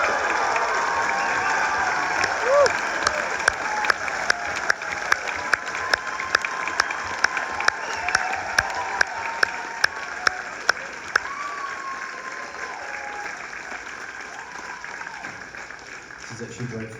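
A concert crowd in Wellington applauds and cheers, sustained dense clapping with whoops, plus a few sharper isolated claps, fading near the end as a voice speaks over it.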